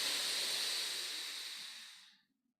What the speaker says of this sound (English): Third deep cleansing breath.